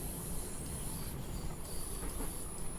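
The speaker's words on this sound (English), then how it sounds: "Screeching noise intensifies." Train wheels screech in the Railworks train simulator on the Mittenwaldbahn line, a continuous high metallic squeal over a steady rumble of the moving train, with no talking.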